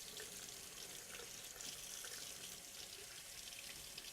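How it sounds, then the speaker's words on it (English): Free-flowing tap water rinsing a tweezer, a steady faint hiss of running water that continues evenly throughout with no talk. "using plenty of free-flowing water"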